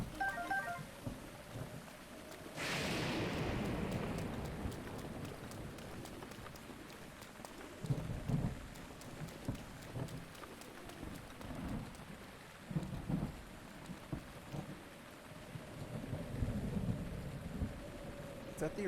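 Thunderstorm in Breath of the Wild with steady heavy rain and a sudden loud lightning crack that rolls into rumbling thunder, followed by continuous rain with intermittent low booms.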